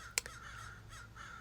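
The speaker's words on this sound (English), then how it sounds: "these crows always be talking so much" Crows caw faintly in the distance, a short sharp call followed by a few softer, scattered caws over a low outdoor background.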